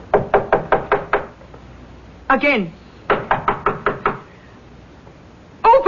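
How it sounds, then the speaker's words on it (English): Knuckles rap on a door in two quick bursts of about six sharp knocks each, loud and close, with a voice speaking briefly between and after them. "Leopold, knock on the door"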